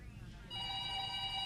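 A telephone starts ringing about halfway through with a steady electronic trill, loud and near, following low room noise in an action movie scene.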